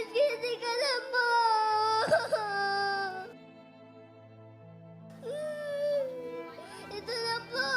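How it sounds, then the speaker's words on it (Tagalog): A child cries in drawn-out, wavering wails with short sobbing breaks, loud and close, stopping for a quiet pause before the crying resumes. "Bakit ka umiiyak?"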